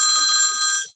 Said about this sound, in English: Of course, that's my phone.